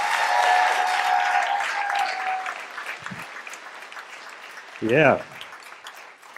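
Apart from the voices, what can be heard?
audience applause for a comedian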